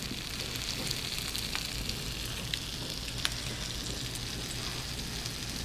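Pieces of Spam sizzle steadily in a hot pan, a dense close crackle of frying fat with occasional sharper pops, no voices.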